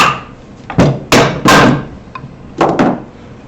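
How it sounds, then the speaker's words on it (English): Hammer taps knocking a glued cutting board loose from bar clamps, five sharp wooden knocks in two clusters, fairly loud and close with no talking. "So you're going to have to tap it a little bit"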